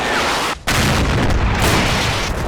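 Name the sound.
gunshot from the video game Combat Mission: Battle for Normandy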